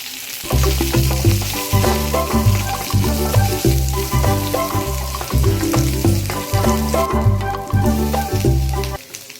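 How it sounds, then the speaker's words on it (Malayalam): Mustard seeds, curry leaves and green chillies fry in a hot pan for an onion thoran, making a loud, steady close sizzle dense with crackling pops and no voices. "ചൂടായ ചട്ടിയിലേക്ക് അല്പം കടുക് വറുത്തത്, അതിനുശേഷം കറിവേപ്പില, പച്ചമുളക് ഇടുക. നന്നായി ഒന്ന് മൂപ്പിച്ചെടുക്കുക."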